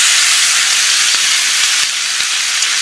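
Veal shanks for osso buco sear in a hot pan, giving a loud, steady sizzle and hiss throughout with small irregular pops and crackles, and no talking.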